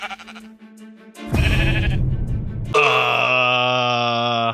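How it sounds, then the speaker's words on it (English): Sheep in Minecraft let out loud, close, drawn-out bleats one after another, each a wavering tonal cry, with a softer game sound in the opening second. "I gathered some sheep from a village to get wool"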